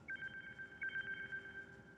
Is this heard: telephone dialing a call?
yes